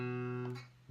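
A single open D string rings on an acoustic guitar capoed at the second fret in open D tuning, a sustained plucked note that decays over most of a second before another soft attack starts.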